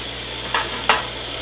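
A rib roast searing in a hot pan makes a constant close sizzle, broken by two quick louder hisses or stirring clatters about a third of a second apart.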